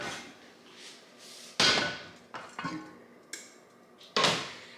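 A hot Dutch oven is lifted out of a kitchen oven, with several loud metallic clunks and knocks spaced over a few seconds and softer scraping between them, close by.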